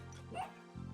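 A dog in the video game Spelunky 2 gives one short yip over steady game music, near and fairly faint.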